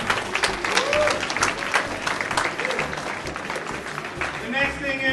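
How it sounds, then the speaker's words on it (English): An audience at the 2013 West Michigan Gaming Convention applauds for the vendors, dense sustained clapping filling the room with some voices mixed in, swelling again toward the end. "give a round to the vendors for taking their time off their busy schedules"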